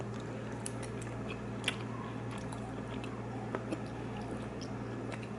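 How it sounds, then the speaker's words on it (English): Close-up chewing of seasoned keto meat, soft wet mastication with a few small sharper bites over a steady low background hum. "So let's taste the meat first."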